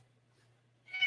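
A fat house cat gives a single short meow, close and fairly clear, after a near-silent pause with a low steady hum underneath.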